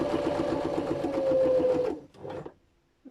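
A sewing machine stitches a tote bag in a steady, loud mechanical whir with a sustained motor tone for about two seconds, then a short second burst before stopping.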